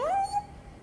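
A dog in the video game Dragon Age 2 lets out a single short, high whimper that rises and trails off within half a second, clear and close with no talk over it.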